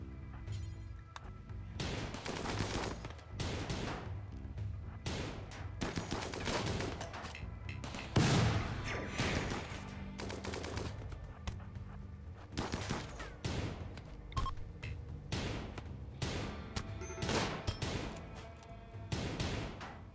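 Turret gunfire in a space colony video game, rapid bursts of sharp shots in irregular volleys over about twenty seconds, loud and close, with a heavier crashing impact near the middle and no talk.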